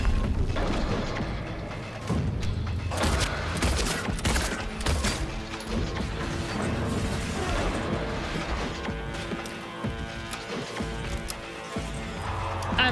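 Rapid gunfire bursts from Silent Hill 2 Remake, repeated shots and crashes layered over a dense, continuous game soundtrack, loud and sustained throughout.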